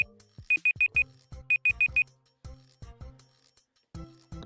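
A timer alarm goes off in two quick bursts of four sharp, evenly spaced electronic beeps, with low voice-like sounds between the bursts and afterward.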